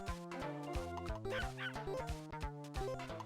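A chiptune-style dog bark from a bootleg Game Boy video game, a series of repeated synthetic yips and bow-wows over steady blocky electronic music, loud and close throughout.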